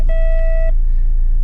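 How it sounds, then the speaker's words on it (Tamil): A Mahindra XUV700 reverse parking sensor sounds a single clear electronic beep of about half a second, bright and close, followed by a quiet low hum. "சென்சருடைய பீப்ஸ் தான் வருதே"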